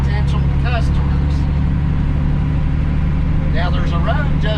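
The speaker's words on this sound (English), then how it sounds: "right now I'm looking at about 30 moving vehicles" Steady traffic on a five-lane U.S. highway, a continuous low engine and tire roar with passing cars swelling briefly, heard from nearby at a constant loud level.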